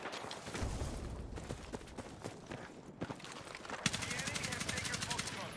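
Rapid bursts of automatic gunfire from the player's weapons in a first-person shooter video game, sharp repeated shots in quick strings, louder toward the end, with a player's voice talking.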